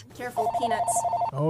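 In a comics and bookstore, a telephone gives a rapid electronic trilling ring while people talk over it nearby.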